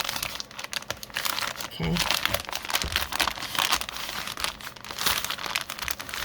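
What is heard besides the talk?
folding Amazon packaging paper for a soft cover journal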